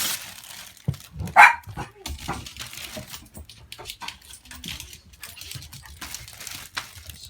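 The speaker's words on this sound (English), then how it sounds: "here's the dog wrecking it already" A dog tears into a cardboard subwoofer box from a Panasonic SC-UX100 hi-fi system, crinkling and ripping it with a few sharp barks and whimpers close by.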